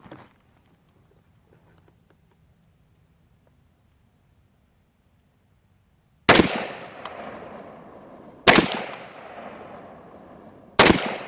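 Quiet lull, then three loud gunshots in quick succession during a range test with a SightMark Wolverine FSR sight, each a sharp crack with a lingering echo, spaced roughly two seconds apart.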